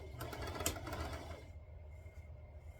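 A sewing machine backstitches at the start of a seam on a quilting project, a fast, steady mechanical whir of needle strokes for about a second and a half before stopping, leaving quiet room hum.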